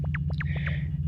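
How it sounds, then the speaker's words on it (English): Metallic humming in the generator room of the Yume Nikki video game: a steady, loud low drone runs throughout, with short rising and falling electronic chirps and a faint whistling tone layered on top. "if you can hear that metallic humming in the background"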